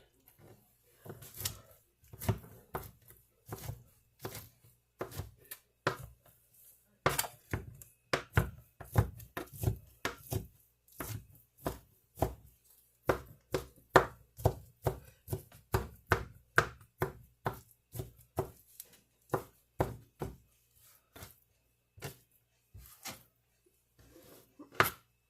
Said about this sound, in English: I'm probably just going to chop up enough ham for both of us